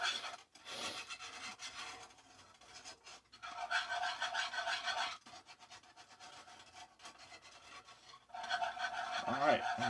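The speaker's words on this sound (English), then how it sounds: "Move around, scrape it clean." A pan is scraped clean after biscuits have been cooked, a rough rasping scrape that comes in several stretches split by brief pauses, close and moderately loud, with faint voice-like sounds at the very end.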